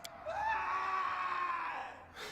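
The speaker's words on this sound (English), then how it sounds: "a scream echoes from the hallway" A single drawn-out vocal scream in the fantasy role-playing video game Pathfinder: Kingmaker, rising then holding a long wavering cry, loud and clear with no talk over it.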